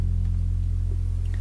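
A bass guitar plays an F on the first fret of its low E string, a deep, quiet note that holds steady without any other sound.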